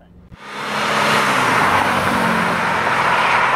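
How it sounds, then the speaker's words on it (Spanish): A 1994 Porsche 928 GTS engine while driving, a steady loud broadband roar rising in after a brief quiet start and holding constant, heard from inside or near the car. "Así que ese es el 928 GTS"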